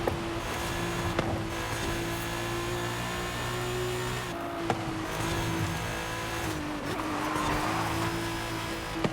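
A racing car driving at full speed in Forza Horizon 5: a loud, steady engine drone held high with brief dips between gears, a tire squeal now and then, and no talking.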